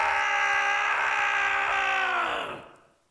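A falling angel lets out a long, loud deathly scream in the video game Seduce Me 2, a sustained harmonic wail that bends downward and fades out near the end as he drops into a hell pit.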